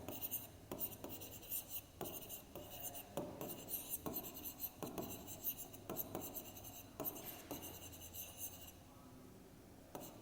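A pen scratches steadily across paper as a math answer is written out by hand, with short strokes and small taps in a quick irregular rhythm, close and fairly quiet.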